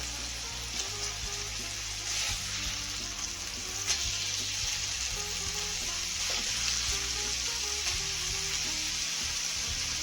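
A special sandwich fries in a pan with a steady, loud sizzle and crackle that runs unbroken and close-up, with no voices over it.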